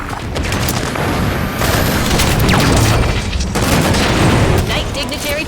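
Rockets in a video game explode in a dense, loud barrage of booms and blasts that rumble on without a break. Voices can be heard faintly under the noise.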